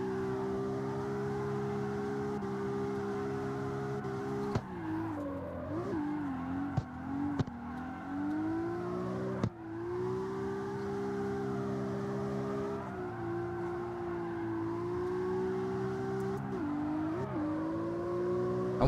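In a street racing video game, a car engine revs hard and repeatedly as the clutch is spammed, a loud, continuous wailing drone that rises and dips in pitch with a few sharp cuts.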